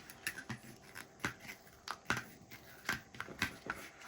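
Sticker sheets peel off a very sticky, strong-grip cutting mat, making a run of close, crackling tearing rasps, each short pull following the last at a steady rhythm, with no voices.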